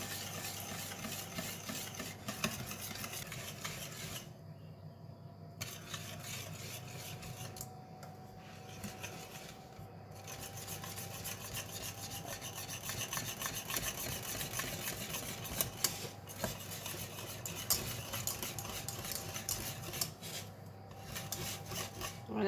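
A whisk scraping continuously around a pot on the stove as a mixture heats and thickens, a rough rhythmic rasping with brief pauses, close and moderately loud, no talking.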